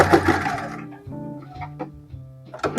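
A sewing machine backstitches to close a seam on a fabric piece, a short run of steady mechanical stitching whirs with brief pauses, close and fairly loud, with no talking.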